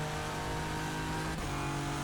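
A GTR-LM race car engine revs hard in rFactor 2, a steady high-pitched mechanical drone. The pitch holds briefly, then dips for a gear change about three-quarters of the way through, with no voices present.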